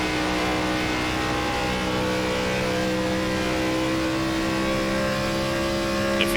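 NASCAR Gen4 race car engines at Auto Club Speedway in iRacing hold a loud, steady high-revving drone with layered engine tones, continuous and close, with no voices over it.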